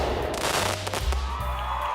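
Fireworks sound effect triggered during a livestream, a continuous two-second burst of crackling pops and booming thumps, loud and dense with no talking over it.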